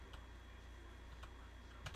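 Light, sparse keystrokes on a computer keyboard while typing code, a few soft clicks spaced out over a low steady hum, quiet and close.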